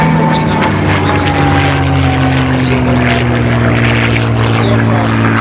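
A propeller aircraft passes loud and close at the Little Gransden Airshow, a steady droning engine roar with a slowly falling pitch, no voices.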